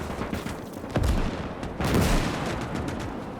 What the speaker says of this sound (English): Lots of artillery hitting the finish lines now.